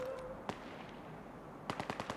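Gunfire in the Battlefield 6 video game: one sharp shot, then a quick burst of several rapid shots near the end over a low, steady battle ambience.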